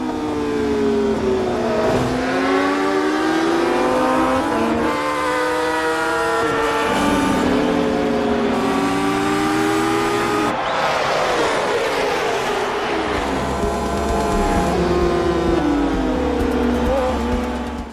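MotoGP racing motorcycles in a film scream past at full throttle, with layered engine notes rising and falling as bikes shift gears. The sound is loud and continuous and reaches a peak as the pack sweeps by.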